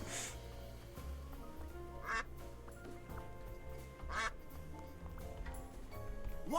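Cartoonish duck quacks from the quack button in the game Duck Detective, a few short bursts repeating every couple of seconds over steady game background music.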